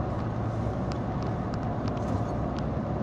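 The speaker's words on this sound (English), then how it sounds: "There's so much traffic on the 17B." A car driving in heavy traffic on the 17B highway, with a steady low road rumble and engine drone throughout and faint passing vehicle noise, no talking.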